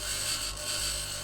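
A tier 3 jackhammer mining in the video game Occupy Mars gives a steady, loud mechanical drone with a high buzzing whine that holds continuously throughout, alone with no talking.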